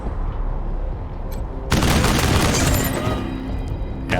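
Gunfire in the video game Wasteland 3: a sudden loud burst of shots and booming impacts erupts after a quieter stretch, then rumbles and rattles on for a couple of seconds.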